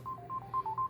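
A quick run of five or six telephone dialing tones, short evenly spaced beeps of slightly varying pitch, heard clearly over a low background hum.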